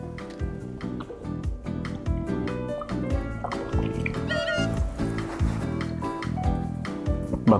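Running water pours and splashes during a rinse after washing with a herbal-scented body product, a steady close trickle with dripping and bubbling that continues throughout.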